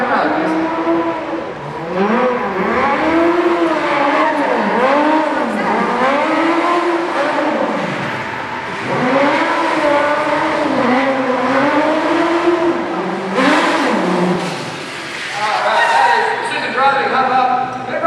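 A modified stunt car drives out at a live stunt show, with close engine revving and rising, falling whines under loud announcer talk and crowd ambience.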